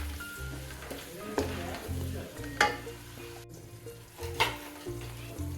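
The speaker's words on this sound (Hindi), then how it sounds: "प्याज इसमें डालेंगे हम और प्याज को हम कर लेंगे गोल्डन, ठीक है।" Onions sizzle and fry steadily in ghee in a pan for a chicken kofta tarka, with a spoon stirring through them and occasional scraping clinks, loud and close throughout.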